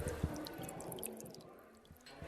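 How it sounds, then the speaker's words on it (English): Water trickling and dripping along a series of hollowed-out logs, with soft wet drips and gurgles over a steady low burble, faint and close throughout. "the first thing we see is water running uphill. And you can hear it"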